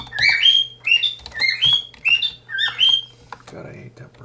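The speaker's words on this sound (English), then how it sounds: "God, I hate that bird." A small bird chirps repeatedly and close by, a run of quick bright two-part tweets in steady succession, with a low hum underneath and a brief rustle at the end.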